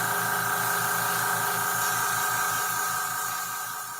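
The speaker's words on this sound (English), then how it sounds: "Sorry about the compressor noise." An air compressor runs steadily during a miniature build, a constant loud mechanical hum with a hissing tone, tapering slightly at the end, with no voices.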